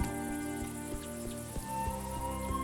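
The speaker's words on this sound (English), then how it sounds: "To wind stroking grass, cricket orchestras, sounds all so new." Crickets chirp in a steady, rhythmic chorus amid wind through grass in an evening scene in the game A Juggler's Tale, with soft musical tones sustained underneath.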